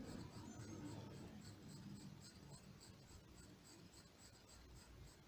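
Graphite H pencil, a hard lead, shading on paper with a steady, continuous scratchy rasp of repeated strokes, close and fairly quiet, with no voices.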